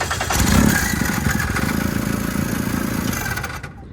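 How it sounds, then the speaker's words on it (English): A Viking 140 Turbo aircraft engine installed in a CH-701 airplane fires up and runs steadily nearby, a constant mid-pitched engine drone that holds evenly before cutting off near the end. "there it is, running engine"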